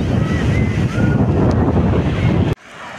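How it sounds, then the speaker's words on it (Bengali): Sea waves wash onto the shore at Digha beach in the morning, a loud, rushing surf roar mixed with heavy wind buffeting that cuts off abruptly near the end. "সকালবেলা ঘুম থেকে উঠে এলাম সমুদ্রের ধারে"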